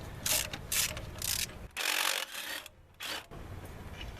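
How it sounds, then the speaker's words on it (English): Close, rasping clicks of a ratchet turning a deep well socket on transmission bracket nuts of a 1996–2000 Honda Civic automatic, in several short bursts with brief pauses between strokes. "you have to use a deep well on the nuts on the transmission."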